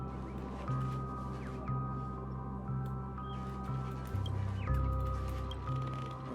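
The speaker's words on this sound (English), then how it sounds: "I was like, I know there's a bird here." A bird clucks in short, repeated bursts roughly once a second in Penacony within Honkai Star Rail, quiet and close over a soft background drone with a few faint chirps.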